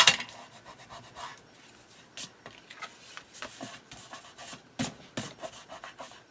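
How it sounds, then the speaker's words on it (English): Short dry rubbing strokes of a tool burnishing paper pages for a handmade bird-watcher journal and mini album, a close, quiet series of irregular scrapes and rasps with brief pauses between them. "Burnish."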